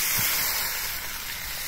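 Steam hisses steadily from a pot of crabs cooking, a continuous breathy rush close by with faint bubbling underneath.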